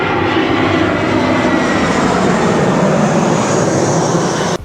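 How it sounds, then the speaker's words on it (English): An airplane comes in to land at an airport, its engine roar loud, close and steady throughout, cutting off abruptly at the end. "Check this incoming plane."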